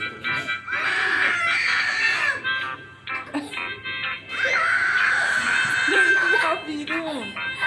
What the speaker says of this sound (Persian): اون پرینا الان اون زیر داره فقط جیغ میزنه